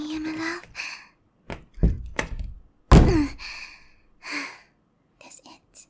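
Several dull thuds and knocks as someone pushes against a stuck door, each uneven and fairly close, mixed with a woman's whispers, sighs and strained breaths.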